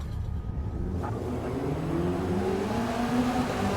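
Race car engine in a sim racing game at Sebring, a steady loud drone with rising tonal pitch sweeps as the car accelerates through the gears, continuous and close with no talk.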